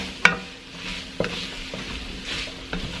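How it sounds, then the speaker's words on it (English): A spoon scrapes and stirs garlic through sautéing vegetables for chicken soup, with a sharp clink of utensil on the pot, a few softer scrapes and a low steady sizzle throughout, no talking. "I'm going to go ahead and add my garlic, and then we're just going to incorporate that into the veggies."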